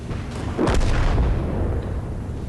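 A tank cannon fires in the World of Tanks game, a single heavy boom with a rolling low rumble that lingers under steady engine noise.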